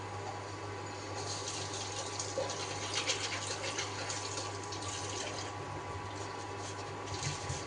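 Potatoes are washed under a running kitchen tap, with a soft, steady stream of water splashing continuously at low volume in a quiet room.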